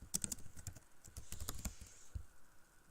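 Computer keyboard keys pressed in a quick, uneven series of light clicks while a CTRL key is held down, fairly close and faint, with no talking.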